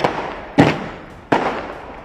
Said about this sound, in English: So these firecrackers will go.